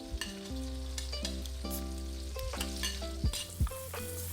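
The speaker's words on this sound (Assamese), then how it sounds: "মই কটা পিঁয়াজখিনি ইয়াতে দি অলপমান ভাজি ল'ম।" Chopped onions fry in oil left from frying meat for chicken pickle, giving a continuous close sizzle with occasional stirring scrapes, partly covered by background music.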